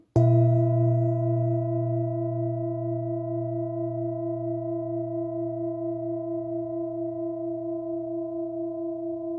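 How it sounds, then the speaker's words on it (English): A singing bowl tuned to the note B struck once rings out with a clear sustained tone, gently pulsing and slowly fading over several seconds, alone and close. "this bowl is tuned to the note B"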